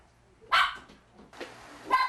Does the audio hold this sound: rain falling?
no